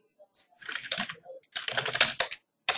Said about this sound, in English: if you just type in Gmail into the search